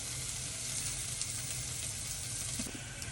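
Egg sizzling steadily in a frying pan at breakfast, a close, continuous crackling hiss with faint pops and no speech.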